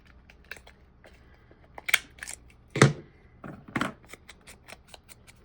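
Scissors cutting paper to trim a notebook pocket: several crisp, close snips at irregular intervals, with small rustles and handling noises between them in an otherwise quiet room.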